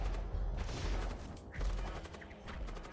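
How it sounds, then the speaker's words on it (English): A missile landing and exploding in the video game Void War, heard as a sustained loud rumbling blast with crackling bursts layered through it and no talking. "The missile landed."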